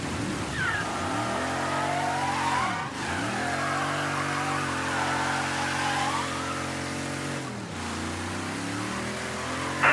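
A car engine in the video game Mafia III, droning steadily as the vehicle drives, with the pitch dipping and climbing again at gear changes, loud and continuous with no talking.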